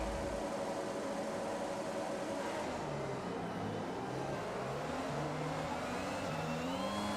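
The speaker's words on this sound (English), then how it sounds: "I have way more wheel spin than before." Race car engine in the F1 2021 video game revving hard off the start line with wheel spin, a steady loud roar with rising and wavering pitch throughout, no talking.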